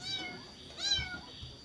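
A cat meows twice, the calls close and fairly loud against a quiet room with low background noise.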